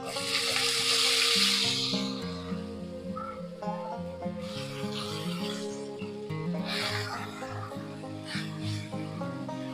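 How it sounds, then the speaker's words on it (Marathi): Chopped onion fries on a low flame for buttermilk kadhi, a hissing sizzle that swells and fades as it is stirred, with a tonal music-like background running underneath. "फ्राय करायचं आहे फ्राय होतच आहे"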